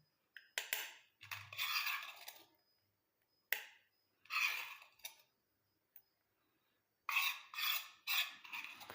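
Scraping, stirring strokes of a hibiscus leaf hair mixture in an iron kadai come in short separated bursts, close and fairly quiet, with pauses between them and no talking.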